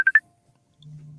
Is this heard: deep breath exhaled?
no